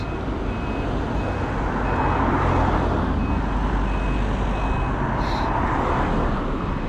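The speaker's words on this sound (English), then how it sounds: "Wow, okay, I've caught all the traffic." Busy road traffic heard outdoors: a loud, continuous rumble and wash of passing vehicles with a faint repeating reversing beep threaded through it, no voices.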